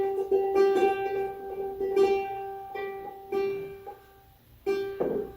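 A ukulele's G string, the one nearest the head, is plucked repeatedly with the thumb in a loose rhythm of bright, moderately quiet notes, with faint shuffling between plucks.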